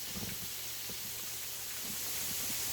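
Green peas go into a pan of sizzling carrots and onions, a steady close hiss of frying with soft crackles running throughout and no talk.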